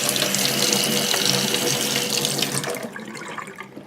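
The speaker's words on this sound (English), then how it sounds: "Get your hot water from the tap, just ordinary hot tap water." Ordinary hot water gushes steadily from a kitchen tap, a loud, even rush that thins toward the end as the flow eases off.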